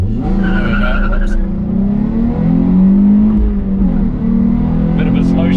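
A sports car engine revs up in a long, loud, rising drone, dips briefly with a slow gear shift, then climbs again close by, with a voice talking over it.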